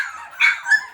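Boxer puppies whimper and yip in quick, high-pitched bursts, two brief rising cries close by and fairly loud, with no talking.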